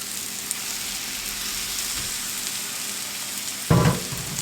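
Eggs frying in a breakfast skillet, cooked soft and runny, give a steady close sizzle and hiss throughout, with a single dull clunk of pan or utensil near the end.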